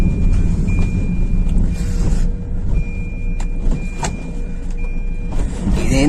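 A car drives along a road, heard from inside as a steady low road rumble with brief clicks and small knocks scattered through it.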